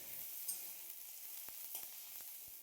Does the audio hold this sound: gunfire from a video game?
no